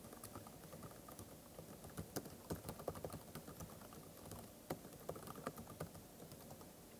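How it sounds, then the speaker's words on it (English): Quiet, close keyboard typing on a computer, with irregular clusters of soft key clicks over faint room noise and no talking. "let me make sure that I've typed this correctly"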